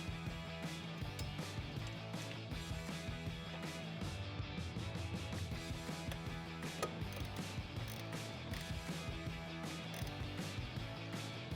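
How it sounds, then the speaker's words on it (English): A 10mm socket ratchet tightens coil pack bolts on a 2006-2018 RAM 1500 5.7L engine, giving quick, close bursts of sharp clicking that repeat steadily throughout. "Grab your 10mm socket and tighten them down."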